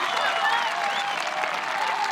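A crowd at a women's disc golf tournament final round claps steadily for a player, continuous dense applause with faint voices mixed in.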